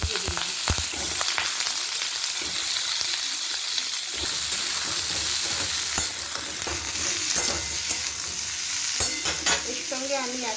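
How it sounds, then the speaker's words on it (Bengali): Potatoes and pointed gourd frying together in hot oil, a loud continuous sizzle with intermittent stirring scrapes and clatters throughout, no voices. "তেলটা গরম হলে আলু আর পটল একসঙ্গে দিয়ে দিলাম"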